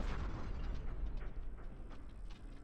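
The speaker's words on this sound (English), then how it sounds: "And time ends on the explosion." A rumbling explosion in the video game Obduction marks the end of a run: a low, continuous roar with rattling, mechanical crackle throughout, steady and fairly heavy.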